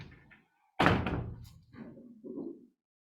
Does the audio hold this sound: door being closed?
yes